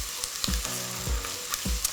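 Chopped garlic fries in a pan with browning onions, giving a close, continuous sizzle with a few soft stirring knocks and no voices.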